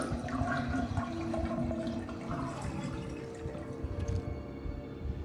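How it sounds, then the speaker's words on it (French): A bathtub drains in the Resident Evil Revelations video game, with a continuous gurgling rush of water running steadily at moderate loudness and tapering slightly near the end. "Vider la baignoire."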